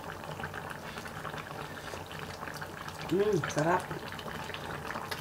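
Chicken and runner beans with vegetables simmer in a pot, giving a steady low bubbling that runs under a short spoken word partway through.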